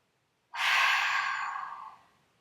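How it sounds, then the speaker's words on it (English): A big cleansing breath during a gentle yoga session: one loud, close, airy exhale that rises sharply, then tapers off over about two seconds with no talking. "Take a big cleansing breath here."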